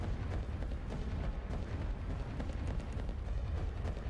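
Heavy artillery bombardment in Rise of Nations during a Napoleonic-era battle, a dense continuous rumble of overlapping explosions and booms with no gaps, loud and steady throughout.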